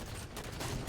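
Gunfire in a video game, a dense rattling fusillade of shots heard fairly faintly, with rapid bursts blending into a steady noisy barrage across the moment.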